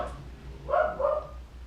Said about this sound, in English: there goes the dogs